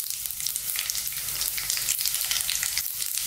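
Cumin seeds sizzling in hot sunflower oil in a pan, a loud dense crackling hiss that stays steady and close throughout.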